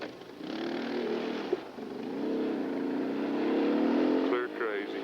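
Engines of four-wheeler ATVs riding down a dirt road in rural Utah, a steady droning rumble with faint speech heard beneath it.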